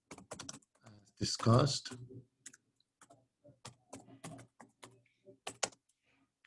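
Slow typing on a computer keyboard: sparse, uneven key clicks with gaps between strokes, mixed with a person's voice speaking over part of the tapping.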